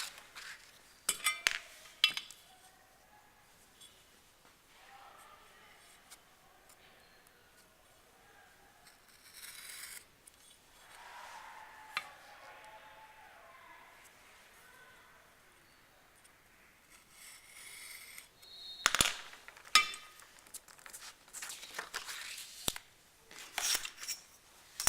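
Scissors snipping through a paper skimmer template along marked lines, quiet irregular cuts and rustling with a few louder crisp snips and paper handling near the end.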